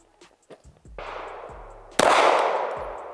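Rifle shots at an outdoor range from an LWRCI IC DI carbine, a few sharp reports spaced apart with a loud close blast near the end ringing out, no talking.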